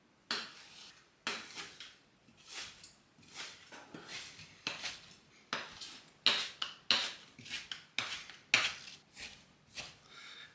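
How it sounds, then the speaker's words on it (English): Knife chopping fresh dill on a cutting board, a steady run of sharp, close taps in irregular bursts with brief pauses between strokes, no voices. "Now I'm gonna chop the dill."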